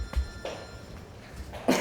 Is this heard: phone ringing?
yes